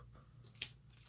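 Scissors snipping through sticky scrapbook tape, one short sharp crisp cut with a faint second snip after it, close but quiet against a low background hum.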